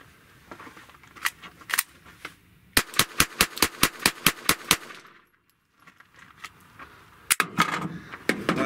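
A Glock G44 pistol fires at a shooting range, a rapid string of about ten sharp, evenly spaced close shots, preceded by handling clicks and followed by more metallic clicking and a few shots.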